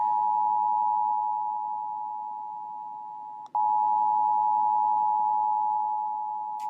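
An emergency message alert on a touch screen: a loud, steady electronic beep tone that holds for several seconds, breaks off briefly, then starts again at full strength.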